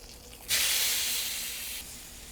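A ribeye steak on a hot Yoder YS640 pellet grill meets the grate with a sudden loud searing hiss that holds steady for over a second, then eases to a softer sizzle.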